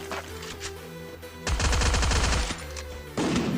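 Gunfire bursts from a shotgun in a video game, with a dense, loud barrage in the middle and another blast near the end over a steady game-music bed.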